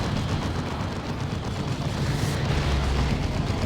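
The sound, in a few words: orbital bombardment explosion in Warhammer 40,000: Dawn of War 2 video game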